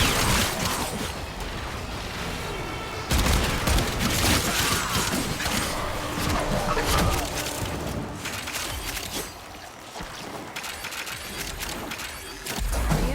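A favorite gun in Warframe fires repeatedly in rapid bursts, crackling and clattering up close amid mechanical clanks and battle effects, with brief pauses between volleys.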